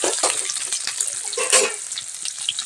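Whole spices for a tadka fry in hot oil with a bright, crackling sizzle and quick pops and spits, close up and continuous with no talking.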